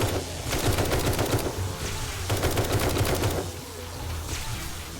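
Rifle fire in the survival video game 7 Days to Die comes as loud, rapid bursts of sharp shots in two long volleys, then fades into a quieter steady background.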